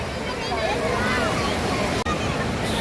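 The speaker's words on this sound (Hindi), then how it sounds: "ये देखिए बहुत ज़्यादा समुद्र की लहरें आ रही हैं" Sea waves rolling in at Juhu Beach, Mumbai, make a continuous rushing wash of surf with faint voices mixed in.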